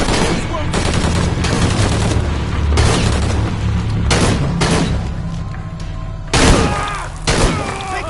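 Gunfire in the video game Shadow of the Tomb Raider: loud bursts of automatic fire and booming impacts in repeated volleys, with shouted voices mixed in.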